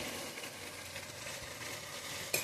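Chicken mince frying with ginger, garlic, onion and turmeric, a steady soft sizzle throughout with a brief sharper crackle near the end.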